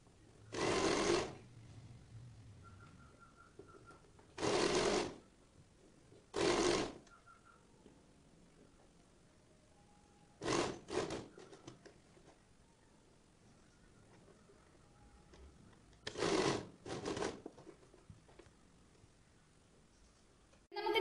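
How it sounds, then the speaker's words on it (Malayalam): A sewing machine stitches along the edge of a one-piece flared A-line kurti in several short bursts of whirring, each a second or so long, separated by quiet pauses. "അപ്പോൾ നമുക്ക് എഡ്ജിലൂടെ വന്നിട്ട് സ്റ്റിച്ച് ചെയ്തെടുക്കാം."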